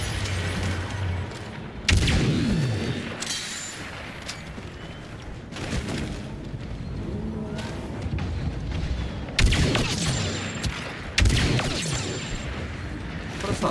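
Gunfire and blasts in the Star Wars Battlefront II video game, sharp bursts separated by quieter stretches, several loud impacts and booms at irregular intervals, with faint voices in the background.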